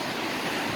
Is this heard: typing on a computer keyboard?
no